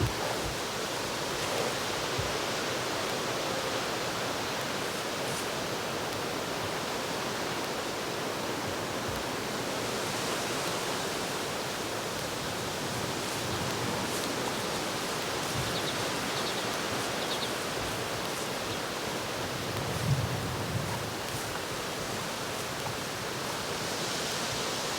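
Wind buffets a Sennheiser MKE 400 microphone on a Canon R50 outdoors as a constant, dense roar of broadband rumble with slight surges, going on for the full stretch with no voice.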